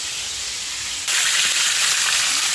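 Food frying in a pan for a Southern New Year meal, a steady broad sizzle that jumps noticeably louder partway through and then holds, close and continuous with no talking.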